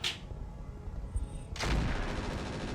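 Mech weapons in a video game fire in sharp bursts, a short crack at the start and then a heavy blast that rolls into a rumbling barrage.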